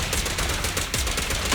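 Dense, rapid gunfire from a shooter in the video game Zenless Zone Zero, loud and continuous bursts packed close together with no talking over them.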